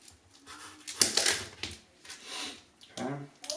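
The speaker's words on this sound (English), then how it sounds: "We're just going to make cuts around the outside to cut this into sections." Knife cutting around a vegetable to divide it into sections, with crisp slicing crunches and a few soft knocks on a board, fairly quiet and close.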